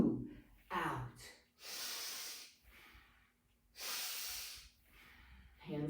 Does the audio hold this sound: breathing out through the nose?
yes